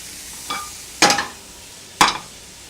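Vegetables sizzle in a pan and are tossed in three quick bursts, a small one and then two louder rattling flips, with a faint frying hiss continuing between them.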